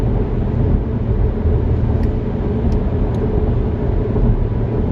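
Car driving, heard from inside the cabin: a loud, steady low rumble of engine and road noise with no pauses, constant throughout.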